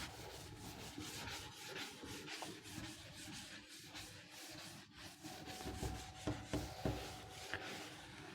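Chalk or marker writing is rubbed off a board with a duster in steady back-and-forth strokes. The scraping is close, continuous and fairly loud, with no talking.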